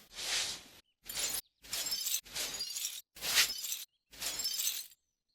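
Broken glass and debris being swept up in the video game The Walking Trade, six separate bursts of crunchy shattering clatter, each under a second, with short silent gaps between them.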